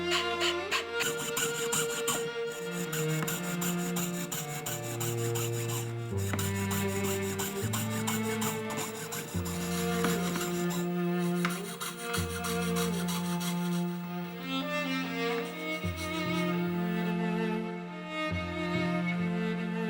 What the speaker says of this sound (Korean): 그래서 이 톱날을 갈아 쓰는 거죠.